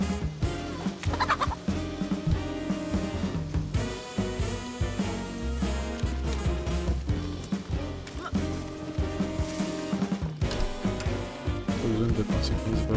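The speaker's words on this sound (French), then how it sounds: "Oh ouais, un poulet. Poulet c'est encore mieux." A chicken clucking in the survival video game DayZ, its short calls mixed into busy game sound and music that stay loud throughout, with a voice speaking over parts of it.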